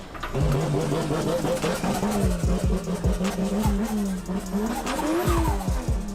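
A racing video game car engine revs hard near its rev limiter, producing a loud, continuous whine that climbs and stutters repeatedly as it bounces off the limiter, with a voice speaking faintly underneath.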